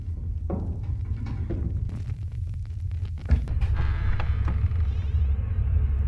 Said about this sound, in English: Did she just let something in by opening that door?